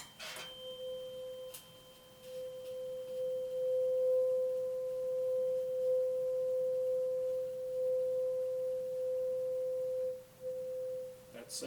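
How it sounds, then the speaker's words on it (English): A 512 hertz tuning fork sounding the note C in a speed-of-sound resonance setup rings as a steady pure tone sustained for about ten seconds, faint and alone with a few small knocks at its start and end. "And we'll now do the 512 hertz tuning fork."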